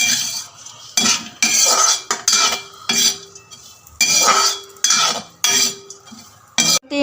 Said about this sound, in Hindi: तो अब कढ़ाई में डाल रहे हैं किशमिश को भी इसी में भूंज लेते हैं